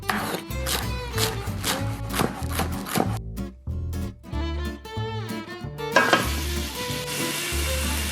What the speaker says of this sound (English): We're really just looking to soften up the onion and celery, and I have this on very high heat